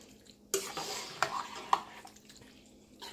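Chicken and Italian dressing pasta stirred in a pot, with a wet squelching churn and a few sharp clinks of the utensil against metal, close and moderately loud, then fading to soft scraping.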